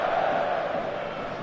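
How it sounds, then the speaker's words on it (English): Full football stadium crowd on match day, a steady roaring wash of many voices, fairly distant and even in level throughout. "The stadium is full of noise and energy."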